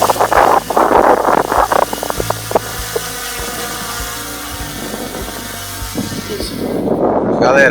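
Strong outdoor wind buffets a microphone at roughly 518 metres of altitude, loud low rumbling gusts at the start and end with a calmer stretch in between.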